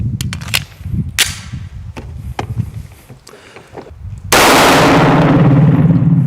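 Pistol fire from a Staccato 2011 shooting 9x19 Blazer 115-grain rounds: a loud string of sharp, closely spaced shots over about four seconds, then a sudden steady rushing roar that drowns everything.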